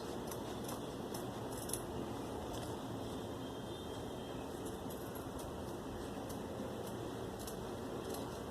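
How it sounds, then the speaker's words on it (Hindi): Steady scissor snipping through fabric while cutting out a kurti neckline, a close, continuous crunch of blades with faint metallic clicks throughout, no talking. "अब हम इसको यहाँ से कटिंग करके इस गले को निकाल लेंगे।"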